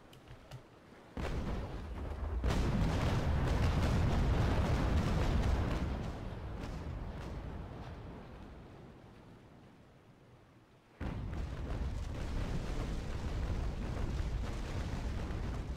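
Sailing warship cannon broadside firing in Naval Action, a sustained rumbling roar of massed gunfire that swells, fades over several seconds, then erupts again abruptly with a second heavy volley.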